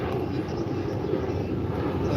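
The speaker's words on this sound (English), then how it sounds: "There's just a couple of airplanes flying over." Airplanes passing overhead make a steady low droning rumble that stays even throughout, with no clear rise or fade.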